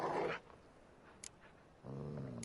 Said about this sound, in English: Sit, you stupid mutts, lie down.